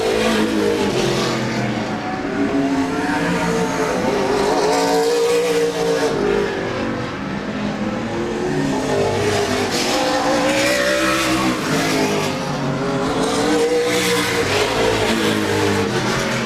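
Race cars roar around Laird Raceway at a Thursday Night Thunder event, the leader well ahead down the back stretch. Loud, continuous engine noise fills the whole stretch, with layered engines rising and falling as cars pass.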